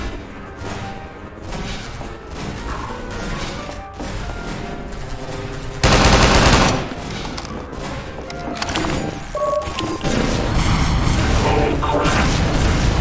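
Canister barrage explosions in Entropy Zero 2 boom and crash in a dense, continuous volley, with a heavy burst midway and rattling mechanical impacts throughout, loud and close.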